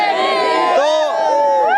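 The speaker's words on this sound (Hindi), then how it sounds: "बहुत सारी भीड़ है तो बातचीत नहीं हो पा रही है" Large crowd of villagers gathered at an election campaign stop, a loud, close mass of overlapping voices and shouting with raised, tonal calls rising and falling throughout.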